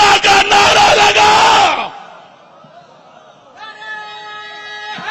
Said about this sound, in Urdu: یہ پھر لگا نعرہ